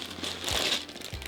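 A plastic parts bag from a LEGO Stranger Things set crinkles close by in a brief burst of rustling and crackling, with no talking over it.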